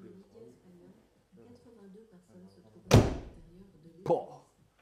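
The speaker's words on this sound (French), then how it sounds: "Le claquage de porte, comme il est carré" A Mercedes 300 SL door slams shut once, a loud close thud, then a second lighter knock a second later, with people talking before it.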